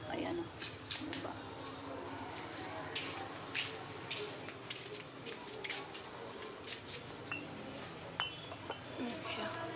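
Empty glass bottles left from a drinking session clink as they are gathered and moved by hand, with scattered light clinks and knocks against a steady background while someone talks.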